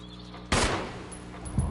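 A single sharp, loud gunshot in Resident Evil 1 cuts through a steady low hum, with a fainter second report trailing just over a second later.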